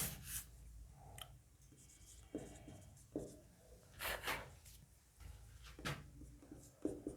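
Marker or chalk scratches and taps across a classroom board in short, irregular strokes with brief pauses, faint and close, no talk over it.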